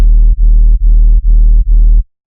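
Synth sub bass for a space-wizard bassline, pushed hard into clipping distortion, sounding as five loud, buzzy, saturated sustained notes in a regular pulse with short gaps between them, ending abruptly into silence.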